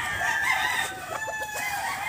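A rooster crows nearby, the long cock-a-doodle-doo call rising and holding, with faint clucking fowl and farmyard ambience around it.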